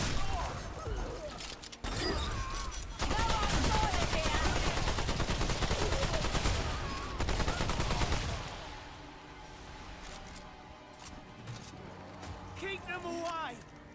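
Enemies open fire in the video game Remnant 2: dense rapid bursts of gunfire hammer away for about eight seconds, loud and close, then thin into scattered shots under quieter game sounds, with a voice talking over it.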